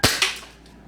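A gas-operated airsoft Glock 17 pistol fires one sharp, loud snap followed by a quick second pop, both heard close up with no voices around them.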